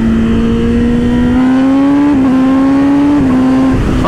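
A 2022 Kawasaki ZX10R sportbike engine runs at high RPM with a loud, steady, buzzing drone, its pitch climbing and dropping sharply at two quick-shifter gear changes, with no voices.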